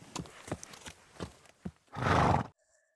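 Several close clip-clopping hoof steps sound in an uneven rhythm, then a horse lets out a loud, full neigh that ends abruptly, followed by near silence.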